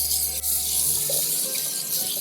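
Lobster halves rinsed under cold tap water, a steady close rushing stream from a faucet with a brief shift in flow partway through, loud and continuous.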